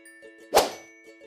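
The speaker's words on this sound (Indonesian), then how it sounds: "tuangkan air pop es yang sudah diaduk hingga merata ke dalam kaleng roti sampai habis" A single soft plop as pop ice drink lands in a bread tin, one short wet impact alone in a quiet room.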